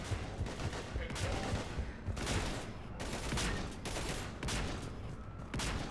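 Sustained gunfire in Mass Effect 3 on a fallen space station, dense bursts of rapid shots with brief gaps between volleys, loud and continuous throughout.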